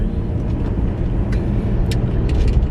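A packed family car cruises along the road, steady low engine and tyre rumble filling the cabin, with a few faint clicks and rattles on top and no talking.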